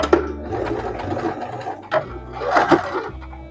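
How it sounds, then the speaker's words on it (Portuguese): A sewing machine stitching through fabric with the presser foot along the edge, running in a steady mechanical whir that briefly stops and restarts for a backstitch, close and loud. "Costura pé de máquina e retrocesso"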